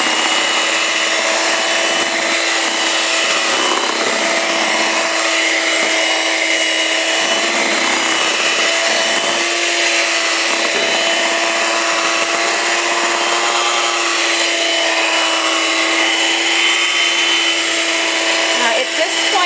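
A loud mixer whips ingredients in a bowl ahead of slowly adding liquid oil, giving a steady high-pitched whirring drone that runs unbroken for the whole stretch with faint scraping beneath.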